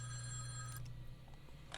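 Payphone ringing with an incoming call: a loud electronic ring tone that cuts off partway, leaving a faint hum with a few soft clicks.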